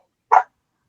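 A single short dog bark from a recently adopted household dog, close and fairly loud, standing alone against an otherwise silent room.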